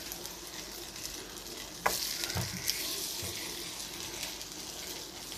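Gluten-free chocolate brioche eggy bread frying in a pan, giving a steady soft sizzle throughout with a couple of brief clatters partway through and no talking.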